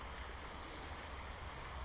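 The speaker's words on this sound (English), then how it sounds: "The sound of running water is quite soothing" Water from a dammed creek runs beneath a bridge in a steady, soft rushing wash, faint and continuous with no voices.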